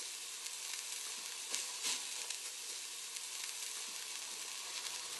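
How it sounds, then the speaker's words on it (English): Meat sears in a NutraEase pan on a stovetop with a steady, close, hissing sizzle that stays even throughout, broken by a few brief crackles. "sear the meat on each side to a dark brown"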